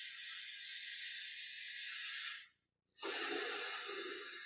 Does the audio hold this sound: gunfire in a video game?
no